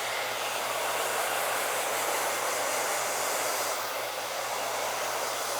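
Hair dryer blow-drying a hair topper, a loud, steady, close rushing whoosh with a faint low hum that runs unbroken throughout, with no voices.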